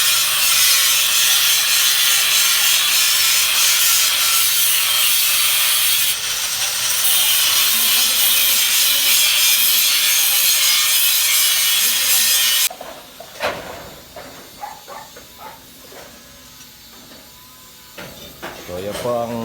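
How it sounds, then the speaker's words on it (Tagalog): An angle grinder cuts on a construction site during renovation work, a loud continuous harsh whine for about twelve seconds that stops abruptly, followed by quieter clanks and handling noises. "nag-grinder si brother"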